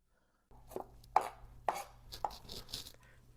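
A knife chops minced garlic cloves and rosemary sprigs together on a board for an Asian roast chicken, giving about half a dozen crisp, irregular thwacks close by with no voices.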